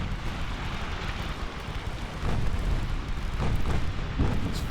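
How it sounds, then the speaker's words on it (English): Rumbling, splashy broadband noise of torpedoes being launched from the warship Bellier in a naval battle video game, loud and steady, swelling louder about halfway through with a few sharp bursts near the end. "Bellier firing torps."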